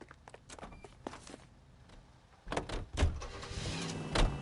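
In the video game L.A. Noire, a car door opens and shuts with footsteps, then the engine starts and the car pulls away with a rising rumble and more thumps.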